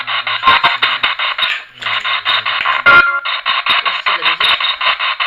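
A ghost-hunting radio device sweeps loud tonal, buzzing fragments in rapid pulses, a choppy stream with a brief gap and a sharp burst partway through, heard close and alone.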